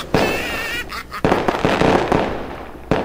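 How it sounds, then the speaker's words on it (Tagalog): Firecrackers go off at a New Year celebration, a loud crackling burst followed by several sharp nearby bangs and a final pop. "Malakas pa naman ang paputok."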